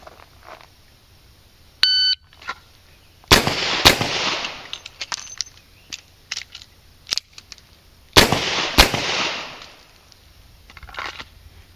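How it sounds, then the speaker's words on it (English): Revolver shots in a law enforcement qualification string, two pairs of loud sharp reports separated by seconds, with a timer beep before and quieter clicks and rattles of reloading between. "String 2, draw and fire 1 round on each target, reload 1 round on each target in 15 seconds."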